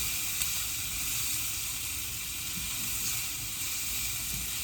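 Onion and vegetables sizzling steadily in a hot pan, a dense continuous frying hiss with faint crackles, close and even throughout with no talking.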